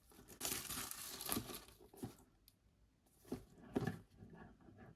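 Cardboard and plastic packaging of a KXD D58 smartphone box being opened, with close crinkling and tearing bursts separated by brief pauses, no voices.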